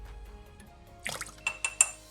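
Two cups of water poured into a pot for one-pot pizza pasta, starting as a faint hum and then turning into a short burst of splashing and clinking near the end, with no voices.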